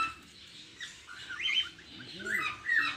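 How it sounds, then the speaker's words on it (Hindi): Lovebirds in a zoo bird house give faint, high chirps and short calls in scattered bursts over a low background hum, with soft voices in the distance. "यह है लव बर्ड"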